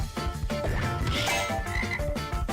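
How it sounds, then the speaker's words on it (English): Frogs croaking in the video game Fancy Pants Adventures, a dense overlapping chorus of rhythmic croaks layered over game sounds, loud and continuous with no talking. "We're gonna see some frogs."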